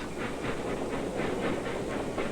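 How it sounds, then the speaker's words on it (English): A coal-fired steam locomotive train rolls along railroad tracks, with a steady rhythmic clatter of wheels over rail joints and a broad hiss of steam running continuously at moderate loudness. "The steam locomotive, the laying of the tracks."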